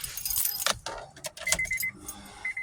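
Car keys jangle and clink up close in several quick bursts of metallic rattling, with no talking over them.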